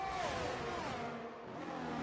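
F1 race cars overtaking in a racing video game, a loud continuous engine whine with shifting pitch as cars jostle, dense and close throughout.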